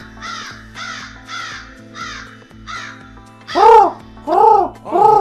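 Crow caws in a steady series, several moderate harsh calls followed by three much louder, closer caws over a low hum, with no talk.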